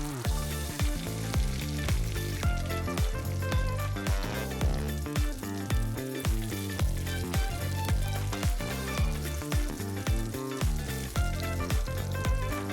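Onions and garlic fry in a pan with a steady, dense sizzle and crackle. Scattered pops and light stirring clicks run throughout, close and continuous, with no talking.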